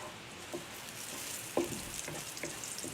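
Nigella seeds sizzle steadily in hot oil in a pan during a water spinach stir fry, a soft, continuous frying hiss broken by a few small pops and stirring clicks.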